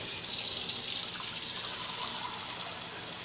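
Water from a tap runs steadily into a small bowl in a kitchen, a continuous close splashing hiss with no talk over it.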